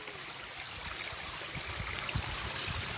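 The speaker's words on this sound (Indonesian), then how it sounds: "dan ini adalah kali di samping rumahku" A clear, spring-fed stream flowing beside a house in a housing estate murmurs softly and continuously, faint trickling water with low gurgles and no voices.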